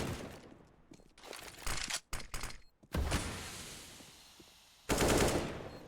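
Automatic gunfire from the shooter game CS:GO rattles in several loud, close bursts separated by short gaps, with rapid sharp shots and a quieter stretch between volleys.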